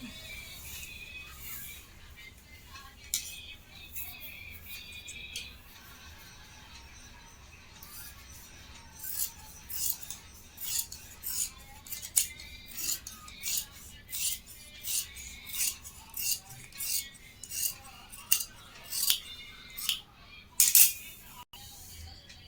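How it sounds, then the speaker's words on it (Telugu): Scissors cut cloth for uniform trousers, starting with quiet handling and then a steady series of short, crisp snips about once a second, close and moderately loud, with no talk. "ఇలా డ్రా చేసుకున్న ఈ క్లాత్ని ఇక్కడ నుంచి ఇక్కడికి మనం కట్ చేసుకోవాలి."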